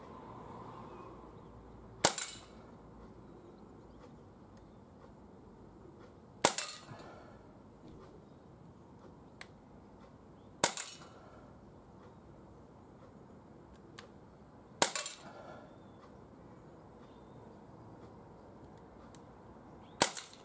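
Umarex Walther PPQ M2 spring air pistol with chain magazine firing at a target: five sharp, loud single shots spaced roughly four seconds apart, each a crisp snap over a quiet background.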